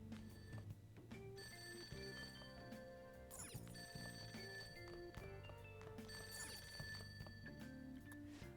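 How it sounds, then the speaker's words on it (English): A telephone ringing downstairs in Persona 5, a repeated bell-like trill heard faintly against steady background music. "The ringing sound isn't coming from my cell phone."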